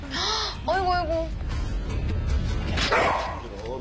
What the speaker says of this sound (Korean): 너가 지금 짖는 게 왜 짖는 거야?